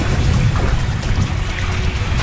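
Floodwater flows through streets in southern Israel and Gaza, a loud, steady rushing and sloshing wash of water with low churning rumble that continues without break.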